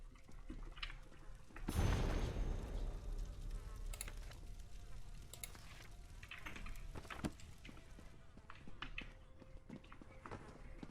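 Flies buzz around a dinner table in The Elder Scrolls Online, a faint continuous insect drone layered over quiet game ambience, with a louder swell early on.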